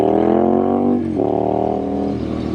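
A Triumph Street Scrambler 900 motorcycle's engine and exhaust pipes rev loudly and up close, holding a steady throttle before a brief dip around the one-second mark, then climbing back to a strong, sustained roar with no talk over it.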